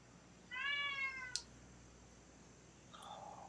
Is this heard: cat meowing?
yes